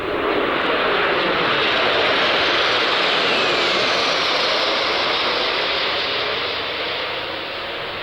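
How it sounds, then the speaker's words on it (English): Aerial refuelling tanker aircraft engines drone in old footage, a loud, steady broadband roar that holds for several seconds and eases slightly toward the end, with no voices. "that's one of the aircraft that they use to refuel the aircraft"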